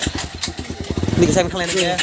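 A KTM motorcycle engine puttering with a fast, even pulse, close and loud, the revs climbing toward the end while a voice talks over it.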